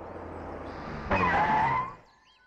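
A car from an action film brakes hard and skids to a stop, a loud tire screech rising over engine rumble and then cutting off into quiet.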